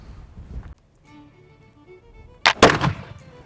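A 1766 Charleville smoothbore musket goes off after a hang fire: a short low crackle first, a quiet pause, then a loud, sharp, close-range report that booms and decays over about a second, with no talk.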